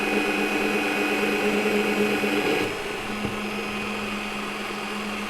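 A Bosch PBD 40 drill press in high-speed gear 2 bores a 25mm hole through 6mm mild steel: a steady, loud mechanical whine and hum that drops slightly in level partway through, with a single click, and no speech.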